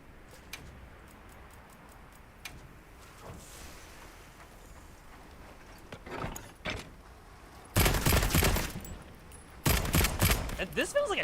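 Bowgun fire in Monster Hunter Wilds, shotgun-like: a few sharp cracks mid-clip, then two loud sustained bursts of blasting near the end over game ambience.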